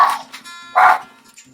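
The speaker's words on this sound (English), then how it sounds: "my dog thinks it's pretty cool out there barking away" A dog barks outdoors, two sharp barks a moment apart, fairly close and loud, heard beside a kitchen where chicken is being fried in hot sunflower oil.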